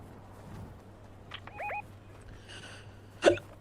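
A person's hiccup sounds during a Fortnite stream, a few faint short chirpy bursts scattered over quiet background noise, ending with one sharper, louder hiccup near the end.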